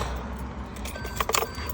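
A bunch of car keys jangles near a parked car during battery disconnection, a low steady rumble beneath and a brief bright cluster of metallic clinks toward the end.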